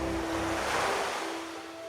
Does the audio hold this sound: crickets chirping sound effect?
no